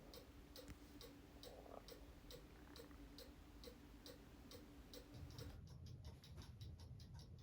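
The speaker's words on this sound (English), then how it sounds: "If you listen carefully, you can hear the clock beginning to tick. And it's ticking fast because I don't have the pendulum on it." A cuckoo clock with its pendulum removed ticks fast and evenly, faint and close, in a rapid regular series of light clicks over a hissy background that turns to a low rumble near the end.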